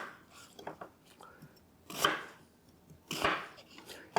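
A knife slices food on a board while roast chicken is being prepared, with soft cuts early on and two sharper, louder chops spaced about a second apart, close and quiet overall.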